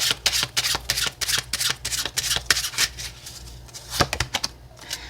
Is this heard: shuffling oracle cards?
yes